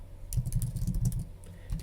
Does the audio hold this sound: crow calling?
no